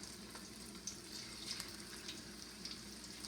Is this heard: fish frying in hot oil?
yes